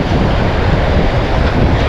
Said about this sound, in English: Tide action is dragging things through the sand at us.